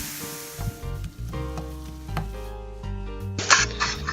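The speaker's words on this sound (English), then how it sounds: "brown your ground beef" Ground beef seasoned with salt and black pepper browning in a pan, a close crackling sizzle with intermittent scrapes and knocks of a utensil stirring the meat, growing louder near the end.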